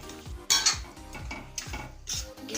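A spoon scrapes and clinks against a pan while egg chutney is stirred into masala over low heat, in repeated strokes roughly every half second, close and clear with no talking.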